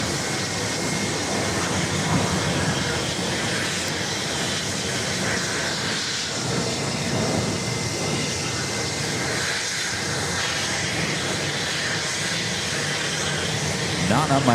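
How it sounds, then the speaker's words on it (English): A JetBlue Airbus A320 at New York's JFK airport starting to taxi, heard as a steady broadband jet engine roar that holds nearly constant throughout, with faint background talk beneath it. "Speaking of JetBlue A320s, we got one about to start its taxi right in front of our cameras here."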